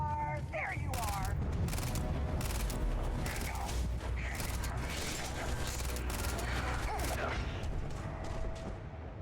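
Rapid bursts of gunfire from a burst-fire weapon in a video game crackle over a dense, continuous wash of game noise and mechanical clatter, with a voice talking throughout.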